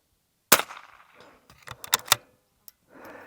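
A sharp gunshot cracks at a steel target, followed by a rattling clatter of metal knocks and clanks as the struck target falls off its stand, then a faint scrape at the end, with no voices.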